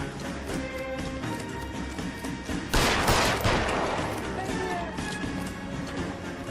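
Gunfire in the video game L.A. Noire: a sudden loud burst of shots erupts midway through, ringing over a steady bed of game noise before fading back down.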